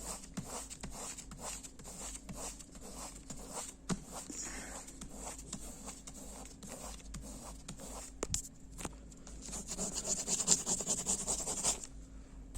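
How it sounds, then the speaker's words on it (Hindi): Careful rubbing on a folded paper page to press a diagram through to the other side, a steady run of soft scratchy strokes, close and fairly quiet, growing a little busier and brighter near the end. "सावधानी से रगड़ना है, ध्यान रहे कि पेज ना फटने पाए"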